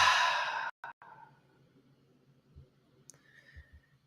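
A long, audible exhale during a guided breathwork session, breath pushed out steadily for under a second, then quiet with faint small sounds after.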